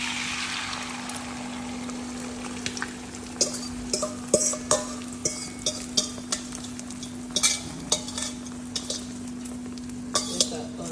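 Eggs frying in a modest amount of oil in a pot, a steady sizzle with frequent clinks and scrapes of a utensil stirring against the metal, over a constant low hum.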